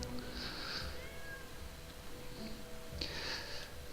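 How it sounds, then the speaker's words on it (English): A cat meows on a repeating loop in the fantasy role-playing game Pathfinder: Kingmaker, two drawn-out meows about three seconds apart over a quiet ambient background, with no talking. "this cat is like stuck on a loop as well"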